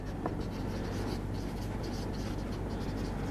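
Pen scratching steadily across paper while a math answer is written out, a continuous close scribble with no talk over it.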